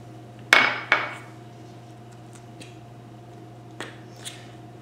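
An egg cracked into a well of flour for pasta dough, two sharp close taps against a hard surface followed by faint cracking and small clicks over a steady low hum.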